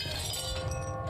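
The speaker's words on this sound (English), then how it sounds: "a baseball would shatter the church's window" A baseball smashing through a church window in a film, heard as a sustained bright crash of breaking glass with tinkling shards over a low rumble, lasting about a second.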